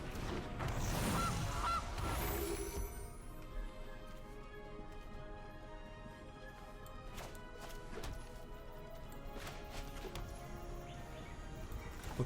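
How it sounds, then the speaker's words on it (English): Played in the card game MTG Arena, a goose card's honking cry sounds loudly at the start, followed by chimes, sparkly tones and soft impact effects from the game. "Let's play out a goose."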